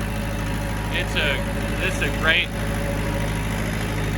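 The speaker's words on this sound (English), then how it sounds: "you can hear this engine runs great" A Mitsubishi D2650FD tractor's diesel engine runs steadily while the tractor drives along, a low constant drone throughout with someone talking over it.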